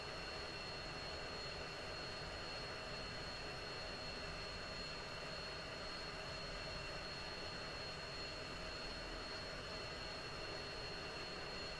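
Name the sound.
jet aircraft taxiing in the flight sim video game Falcon BMS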